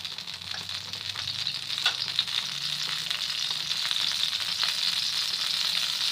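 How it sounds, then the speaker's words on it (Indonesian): Ground garlic sizzles in a little hot oil in a wok while being sautéed, giving a steady, close crackling hiss with occasional pops and stirring sounds and no voices. "kita masukkan bawang putih yang udah dihaluskan"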